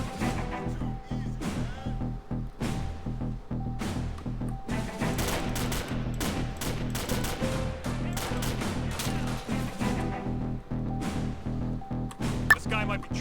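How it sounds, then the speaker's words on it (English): Gunfire in a GTA 5 police mod shootout, a rapid run of sharp cracking shots and impacts over a steady low engine drone, dense through the middle with one louder snap near the end. "I was going to blow by, but I heard shots."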